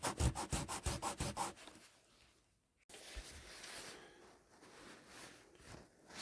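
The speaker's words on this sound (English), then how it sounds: "I'm going to put that on the table, a workspace, and we'll lay that baby right on there, and I'm going to sand it" Rhythmic back-and-forth sanding strokes rasp on a 1/32 scale laminate wooden model propeller, about ten close strokes, then softer rubbing and scraping.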